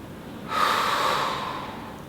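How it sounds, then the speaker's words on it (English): A sharp, breathy exhale during a slow pistol squat, one long airy push of breath that swells quickly and then fades away gradually, close to the mic with no talking. "and exhale."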